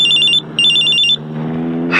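A mobile phone rings loud and close in two bursts of a rapid, trilling electronic tone, broken by a short gap, with a low room hum beneath.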